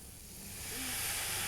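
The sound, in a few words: water hissing and steaming in a hot pan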